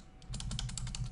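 Quick, light keystrokes clatter on a computer keyboard at close range, an uneven run of taps lasting about a second with no talk.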